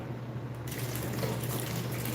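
Water runs steadily, splashing and trickling up close, with a low hum underneath and the flow growing brighter partway through.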